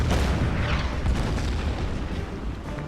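Artillery fire in the wartime strategy game Order of Battle, a rolling barrage of deep booms and rumbling blasts that blend into one another, loud and continuous throughout.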